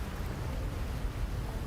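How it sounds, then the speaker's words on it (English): A steady broadband rush of water from a waterfall in Hogwarts Legacy, a constant roar with no breaks and no voices. "Look at this waterfall."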